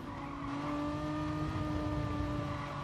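Gr4 race car engine in Gran Turismo Sport during a drag race against a Porsche at Lago Maggiore, a loud, steady, droning roar held throughout with a faint tire squeal.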